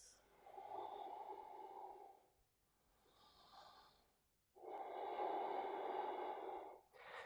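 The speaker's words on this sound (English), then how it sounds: "Breathing here, those lovely long yogic breaths" Long, deep yogic breaths during a yoga pose, three slow airy breaths, close and soft, each swelling and fading with quiet gaps between, the second shorter and gentler.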